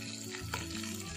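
Sardines frying in hot oil in a pan, a steady close sizzle and crackle running throughout with no talking.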